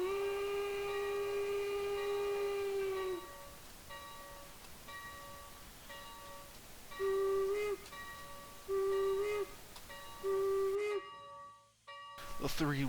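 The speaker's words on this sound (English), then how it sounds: "The three whistles, meaning reversing." A steam locomotive whistle in a train simulator game set at the Illinois Railway Museum: one long sustained blast, then three short, loud blasts signalling reversing, over a steady background hiss.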